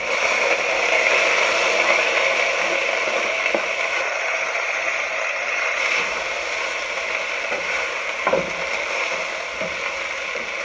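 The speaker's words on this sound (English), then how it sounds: "The pot is nice and hot. I'm gonna go ahead, and that's my onions and peppers," Julienned onions and peppers hit a hot pot for chicken fajitas, giving a steady, loud broadband sizzle that holds throughout with a few small pops and stirring clicks.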